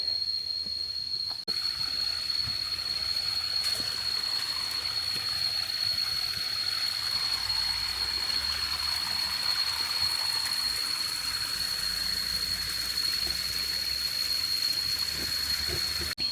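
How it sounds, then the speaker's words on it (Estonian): A small stream flows steadily outdoors, a continuous soft watery rush and trickle with no talking. "No okei, mingi väike ojakene läheb siit"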